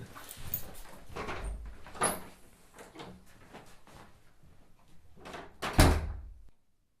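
A door is handled with several clunks and knocks, ending in one louder, heavier thud, then silence.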